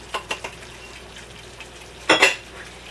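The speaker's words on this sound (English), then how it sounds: "I'm going to mix those together in my bowl" Pecans and coconut being stirred together in a clean bowl for a German chocolate cake filling: a few light taps early on, then a louder scraping, rustling burst near the end, with no talking.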